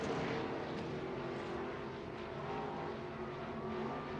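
A stock car roars down the back stretch at Crawford County Speedway during a heat race, a steady, distant engine drone blending with other cars for several seconds, no voices.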